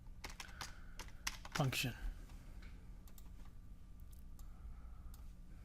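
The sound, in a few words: typing a function name on a computer keyboard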